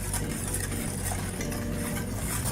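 A cocoa and cornstarch mixture diluted in cold water is stirred for a chocolate dessert, giving a continuous close scraping, sloshing swirl of utensil against the bowl, with no voices.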